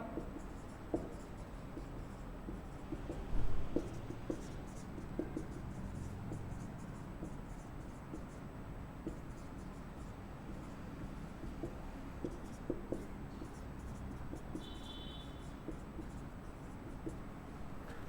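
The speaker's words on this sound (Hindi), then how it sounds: "कुछ पॉइंट्स मैं लिख रहा हूं।" Pen or marker scratching steadily across a surface as points are written out by hand for an accounting lesson, a continuous faint rasp with small taps and strokes, no talking.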